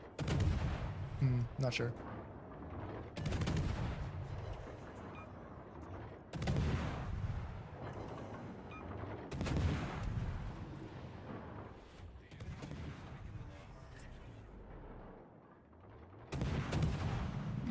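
Battleship main guns fire in World of Warships: Legends in a series of heavy booms that come every few seconds, each with a long rumbling tail, while people talk quietly between the salvos.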